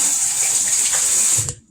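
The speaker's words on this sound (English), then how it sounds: "I'm going to wash my hands" Tap water runs steadily into a sink as hands are washed at home before cooking dinner, a close, even hiss that stops abruptly near the end.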